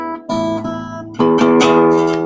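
A guitar's low E string in standard tuning is plucked and rings out, struck again with a fuller, louder attack partway through, close and sustained with no talking.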